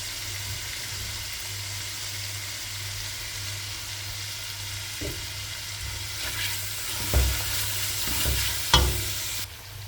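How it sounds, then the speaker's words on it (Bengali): Noodles stir-fry in a pan with oil, soy sauce and chili, making a steady close sizzle. Scraping stirs and utensil knocks grow louder near the end. "আর এই যে এই সাইডে নুডলস রান্না করতেছি।"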